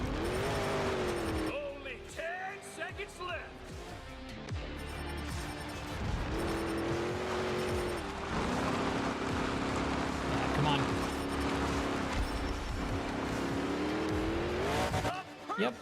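A monster truck in Monster Jam Showdown roars loudly and almost without a break, its engine pitch rising and falling with revs, and tire squeals and impacts come through while someone talks over it.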